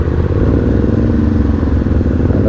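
A two-cylinder 550 maxi scooter big bike idles close by with a steady, loud, throbbing engine note and a faint mechanical clatter, alone without talk.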